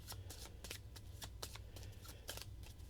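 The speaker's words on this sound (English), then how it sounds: "So we'll just shuffle up his deck." A deck of cards for a solo tabletop game is shuffled by hand, a quick run of papery riffles and snaps in bursts, close but quiet, with no talk.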